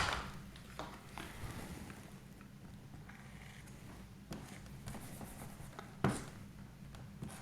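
Marker or chalk scratches across a board while a physics diagram of a capacitor is sketched, soft intermittent strokes and taps close by in a quiet room, with a sharper knock near the end.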